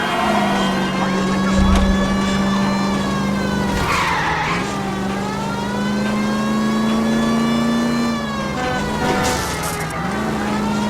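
A car chase in L.A. Noire, with a period car engine droning at steady high revs while tyres skid and squeal, pitch dipping briefly around gear changes or turns; loud and close throughout.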